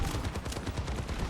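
Rapid automatic gunfire from Soldier 76's rifle in Overwatch 2, a steady stream of quick shots with no pauses, loud and close across the whole moment.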